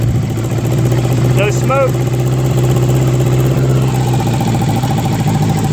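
A Honda GL1000 motorcycle runs at a steady idle just after starting, a close, loud, even engine drone with a faint mechanical whine, and a person briefly speaks over it.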